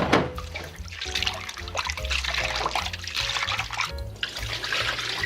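Salted seaweed stems rinsed by hand in lukewarm water in a basin, close trickling and splashing with sloshing swirls, continuous and fairly loud.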